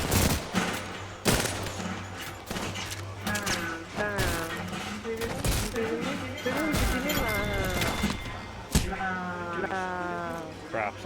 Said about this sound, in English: Crap, someone's shooting at me.